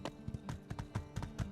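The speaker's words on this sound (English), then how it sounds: "It's a bit easier to ride a horse there." Horse hooves in My Time at Sandrock beat out a quick, steady clip-clop rhythm of soft, close thuds while riding.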